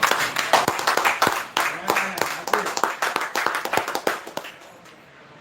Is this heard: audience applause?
yes